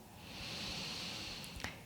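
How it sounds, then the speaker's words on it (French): A slow, steady inhale through the nose during a vinyasa yoga session, a soft, close breathy hiss lasting nearly two seconds and ending in a slight sniff. "Reprenons une inspire par le nez"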